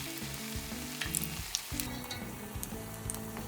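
Tempura battered pieces frying in hot oil at medium heat, a dense continuous sizzle and crackle with faint stirring, close and steady throughout.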